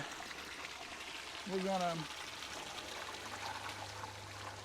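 Water pours and trickles steadily into a fish tank at a fish farm, a soft continuous stream heard at moderate distance with a brief voice speaking over it.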